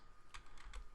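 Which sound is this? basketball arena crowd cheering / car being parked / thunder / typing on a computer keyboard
typing on a computer keyboard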